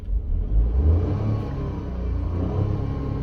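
Petrol engine of a Tata Nexon XMS compact SUV revving at higher RPM, heard from inside the cabin as a loud, steady mid-pitched rumble that surges early and then holds a sustained drone without any talk.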